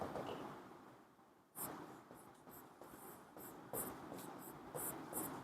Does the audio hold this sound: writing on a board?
yes